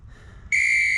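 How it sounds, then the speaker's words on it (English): Workout timer app on a phone sounds a loud, steady whistle tone to start a Tabata interval, cutting in abruptly after quiet room noise and holding for half a second. "The whistle sound tells me when to start the workout or start the rest"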